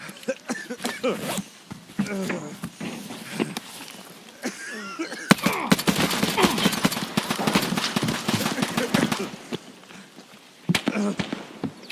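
Rapid gunfire crackles in the video game Escape From Tarkov, sharp shots arriving in scattered bursts that build into a dense, sustained volley before thinning to a few final cracks; a voice speaks briefly between them.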